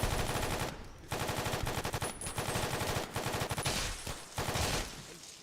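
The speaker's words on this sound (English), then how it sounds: "This is where the light machine gun is gonna come in handy here." A light machine gun firing in Fallout: New Vegas, loud rapid bursts of automatic fire with brief gaps between them, close and dense throughout.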